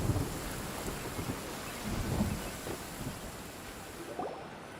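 Steady rain hisses through a Genshin Impact thunderstorm, with low rumbling thunder rolling in waves beneath the downpour and no voices.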